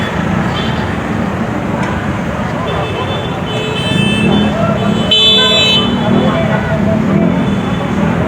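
Dense roadside traffic jam in Palembang, with a steady loud rumble of engines and horns tooting near and far while people talk over the din.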